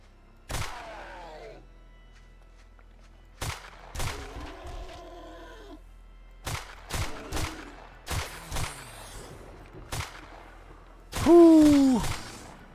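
A new gun in the zombie survival game 7 Days to Die fires sharp, close shots in irregular bursts, single cracks and quick pairs separated by quiet gaps, with a louder burst near the end.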